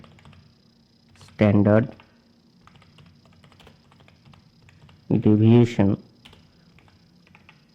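Soft, steady clicking from a computer keyboard runs throughout as someone types a LaTeX table. It stays faint in the background, and a voice speaks over it twice.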